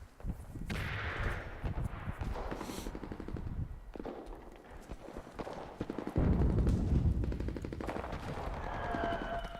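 An artillery barrage in the video game Enlisted, heard as rapid bursts of heavy gunfire and explosions that keep coming in dense, uneven volleys, loud and close, with a steady din between impacts.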